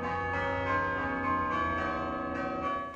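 Chime bells at Syracuse University ring a steady, overlapping melody, one struck note following another, loud and continuous without any voices.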